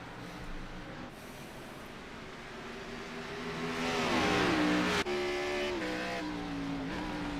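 Race cars in a racing video game at Watkins Glen, downshifting toward turn one: a loud, steady engine drone swells and then steps down in pitch as the gears drop, with no talk.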